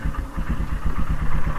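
Royal Enfield Himalayan motorcycle engine fitted with a new NGK iridium spark plug, idling with a steady low thumping pulse, close and fairly loud, no voices.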